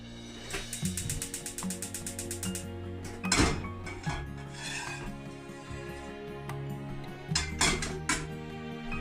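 Metal pots and pans clank and scrape nearby as they are set on a stove, with a few sharp knocks and rattles.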